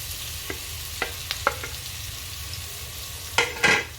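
Tomatoes sizzle as they are sautéed in a pan for a pork monggo dish, steady frying hiss punctuated by several sharp spatula clinks and scrapes, louder stirring near the end.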